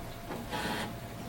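An HP Officejet 6700 printer initializing during setup, giving off a steady mechanical whir that swells into a louder burst midway before settling back, with no voices.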